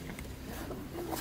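A zipper slides briefly and quietly on the pocket of a thin blue canvas pool bag, with faint rustling around it.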